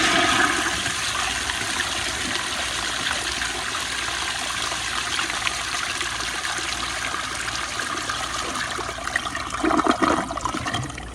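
Flushometer-fed 1998 American Standard Spacesaver Cadet toilet flushing, a loud continuous rush and gurgle of water held steady for several seconds, with a sputtering surge near the end.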